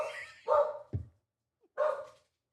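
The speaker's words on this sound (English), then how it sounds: "But he'll bark, but then he runs away." Coco, a small dog, lets out a few sharp barks, two close together and then one more after a short pause. The barks sound fairly near, with silence between them.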